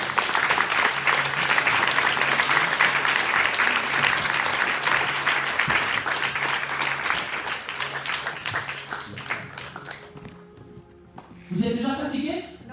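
A church congregation at a French-language worship gathering applauds for the Lord, sustained dense clapping and cheering for about ten seconds, then fading out as a voice speaks near the end.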